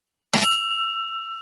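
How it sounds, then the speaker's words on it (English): A single ring of a Rotary Club meeting bell, one sharp close strike that leaves a clear metallic tone ringing steadily and slowly fading. "So we start our meetings by ringing our bell, which you'll hear in just a second"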